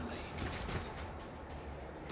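Rapid volley of gunfire and blasts from a barrage attack in the turn-based video game Warhammer 40k Rogue Trader, dense overlapping bursts at steady loudness throughout.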